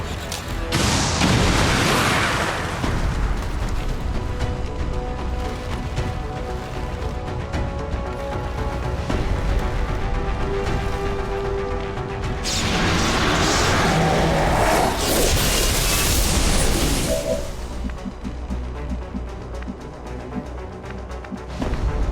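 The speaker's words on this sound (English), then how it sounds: "We can use a rocket though, which should also detonate the tanker next to her." Rocket launched in the game XCOM 2 that blows up a nearby tanker: two loud, rumbling explosive bursts, one near the start and a longer one in the middle, over a constant layer of game sound and music.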